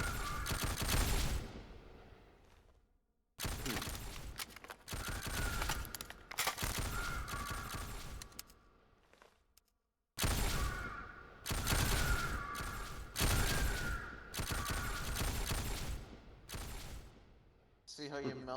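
Burst-fire blaster weapon shooting at stormtroopers in a Garry's Mod Star Wars roleplay game, loud repeated bursts of shots with brief gaps between volleys, with a voice speaking over the firing.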